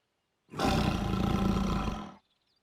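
A tiger roars in a cartoon, one loud, sustained growling blast lasting under two seconds that begins and ends abruptly against silence.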